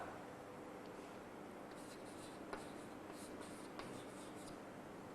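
Chalk or a pen marks a board during a biology lecture, faint scratchy strokes in short bursts with a couple of light taps over a quiet room hum, no talk.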